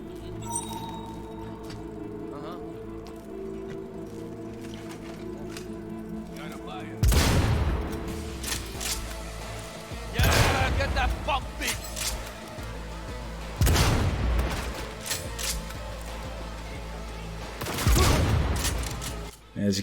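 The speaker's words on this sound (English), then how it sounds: "just use this gun to shoot them all through the wall" A gun in the video game Cyberpunk 2077 fires through walls in four heavy, booming bursts spread several seconds apart, over a steady game soundscape with someone talking throughout.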